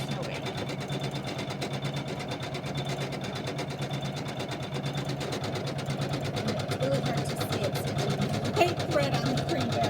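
An embroidery machine stitches a thread-dense snowman design, a steady, fast mechanical whir and needle chatter running continuously, with a voice talking quietly over it.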